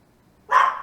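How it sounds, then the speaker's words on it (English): A dog gives a single short, sharp bark close by, starting abruptly after a moment of near silence and trailing off quickly. "Can you shut the dog up, please?"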